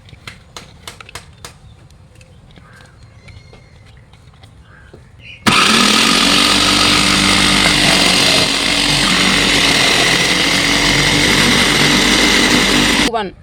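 A vegetable cutting machine, its blade turned for fried-rice cuts on carrots, starts up after some talk and a quiet lead-in, then runs as a loud, steady motor roar until it cuts off.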